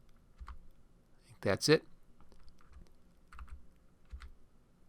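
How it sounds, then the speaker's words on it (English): Computer keyboard keys tapped in short, sparse clicks at close range, a few isolated taps spaced apart, while someone briefly speaks over them. "And then just tapping it over with the cursor keys and down right there."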